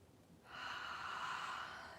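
A single deep breath is drawn in during a guided breathing exercise, a soft, breathy rush that swells after a quiet start and lingers close and gentle for over a second.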